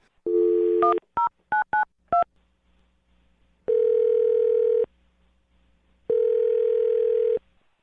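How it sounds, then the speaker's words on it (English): A telephone dial tone, then a quick run of DTMF keypad beeps as a number is dialed, followed by two long, evenly spaced ringing tones, clear and alone with no talking. "I'm going to dial his phone number right now"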